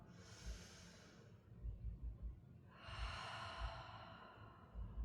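Slow, deep breathing during a gentle yoga session, one long soft inhale followed by a pause and a fuller, airy exhale, quiet and close.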